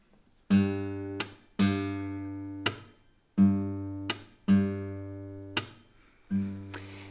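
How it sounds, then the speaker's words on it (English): Six sharp percussive thumb slaps on a fingerstyle guitar, each ringing out and decaying, with a bright metallic snap of string bouncing off frets; played alone at an unhurried, uneven pace. "the sound you hear is the string bouncing off the frets"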